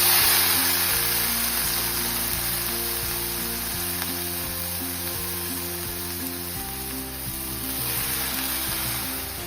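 Boiled cluster beans drop into a hot oil tempering in a pan, setting off a loud, steady sizzle that continues throughout with faint stirring, no voices.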